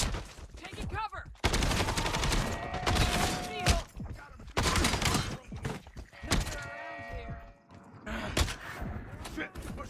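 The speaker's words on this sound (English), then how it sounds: "Machine gun." Repeated bursts of machine gun fire and gunshots in a first-person video game, loud and close, alternating with lulls where someone talks over the action.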